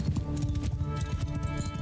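Horse hooves galloping in the video game Mount & Blade II: Bannerlord, a quick steady clip-clop rhythm, close and fairly loud, with no talking over it.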